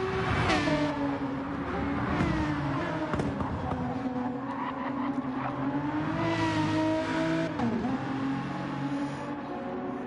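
GT race cars at the Bathurst 12 Hour roar past, engines rising and falling in pitch as they accelerate and shift, with a passing surge midway, fairly distant beneath a steady crowd-and-track background.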